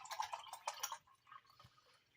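Water from one can is poured into banana pudding mix in a home kitchen, a short run of dripping and splashing liquid that trails off after about a second.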